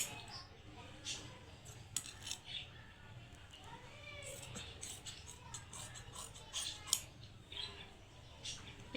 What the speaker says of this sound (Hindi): जितना मेरा फासला रखना था उस हिसाब से अब हम इसकी कटिंग करेंगे